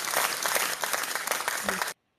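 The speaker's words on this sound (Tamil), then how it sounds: "நான் இங்க உங்களுக்கு கை தட்டுறேன்" Applause-like clapping, a dense burst of hand claps lasting about two seconds that cuts off abruptly into silence, mixed with some voice.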